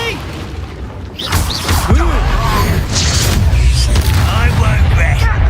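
Repeated Confringo fire-spell blasts in the Hogwarts Legacy video game burst in heavy, booming waves, several loud explosions stacked over rumbling combat noise, while a voice talks and shouts over the action.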